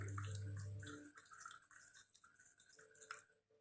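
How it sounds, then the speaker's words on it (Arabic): A cup of boiling hot water poured onto dried thyme, a close liquid splash and trickle that tapers into gurgles and faint drips, with no talk. "هضيف عليه يا بنات كوباية من المية المغلية أو السخنة بالشكل ده"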